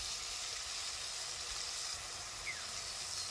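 Ground turmeric, cumin and red chilli powder sizzle in a frying pan with chopped tomato, a soft, steady, continuous hiss with no talk over it.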